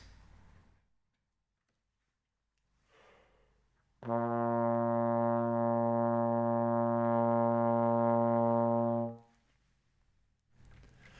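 A single low trombone note, B flat in first position, sounds steady and sustained for about five seconds, alone, with quiet talk just before and after.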